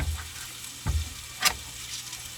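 Bacon sizzles in a pan as it cooks until crisp for a corn chowder, a soft steady hiss punctuated by a few sharp pops and crackles, with no voices.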